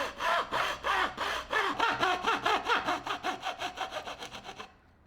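Hand saw cutting gear teeth in wood for a gravity-powered timer: a steady run of rhythmic back-and-forth rasping strokes, close and fairly loud, about twenty strokes before stopping.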